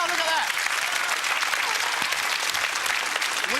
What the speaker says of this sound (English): Round of applause again